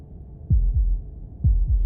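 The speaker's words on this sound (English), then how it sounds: "That was the sound of a heartbeat" Heartbeat effect from the video game Slay the Princess: two deep double thumps, lub-dub, about a second apart, loud and close over a low hum.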